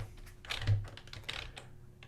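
Quiet, close keystrokes on a British-layout computer keyboard, a short burst of a few distinct taps with a heavier press in the middle, alone with no talk.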